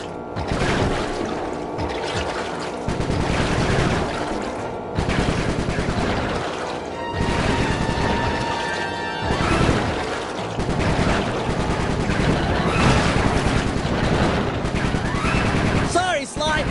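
Bentley's gun in Sly 3 fires long, dense bursts of rapid gunfire with brief pauses, loud and continuous under a game soundtrack.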